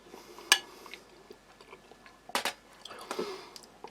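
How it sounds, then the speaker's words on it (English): Soft, close chewing of well-cooked pork meat from a German army ration, with a few sharp bites and moist squishy mouth sounds spaced irregularly in a quiet room. "You certainly know that is meat, and you do need teeth to chew it."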